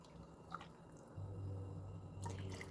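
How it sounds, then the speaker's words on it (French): Water poured into a soup pot while cooking an iftar meal, a soft splashing and dripping that grows to a steady low gushing fill partway through, close by with no talk. "je vais encore rajouter de l'eau"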